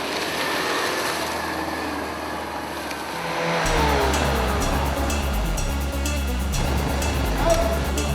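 A car is driven during a film shoot, its engine building to a loud, steady roar after a quieter opening of background noise, with a rising whine as it moves.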